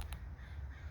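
Crow cawing in a garden, two quick distant calls at the start over a low outdoor hum, faint and brief.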